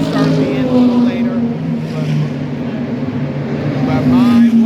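Race cars at full speed during the Rolex 24 endurance race make a steady, loud engine roar with rising and falling tones as they pass close by, and a person talks over the noise.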